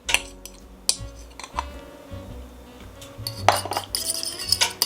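A fork or whisk beats an egg in a bowl for eggnog French toast batter, giving quick clinking and tapping strokes in irregular bursts, close and clear, with no talk.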